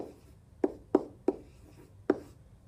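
Numbers written by hand during a math lesson on multiplication, heard as five short, crisp tapping strokes spaced unevenly, close and clear with no talking.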